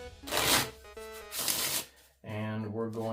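A deck of playing cards, jokers mixed in, gets two quick riffle shuffles with crisp bursts of ruffling, close and clear, followed by someone speaking.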